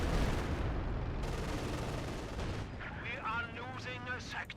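A Stuka dive bomber strike in Company of Heroes 2 lands as a heavy burst of explosive blasts and rumbling gunfire, with an excited voice talking over the end.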